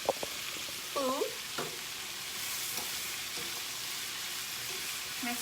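Miso curry milk ramen soup stirred in a pot, soft liquid swishing and a faint steady simmer, quiet and close, with a few light clinks near the start.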